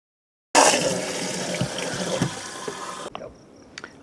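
A new hot tub fills with water poured in through its plumbing hole, a steady loud rush of running water that stops abruptly near the end, leaving a few faint drips and clinks.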